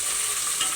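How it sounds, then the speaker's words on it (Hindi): Mutton frying with onions in a pan, a steady, close hiss of sizzling with faint stirring scrapes and no voices. "गोश्त को जब तक फ्राई करेंगे जब तक इसका कलर ना चेंज हो जाए"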